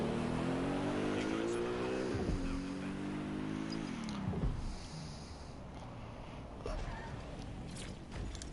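Car engine in Watch Dogs Legion driving under auto drive, a steady hum whose pitch rises and falls as it shifts, running continuously and fairly loud with busy game ambience over it.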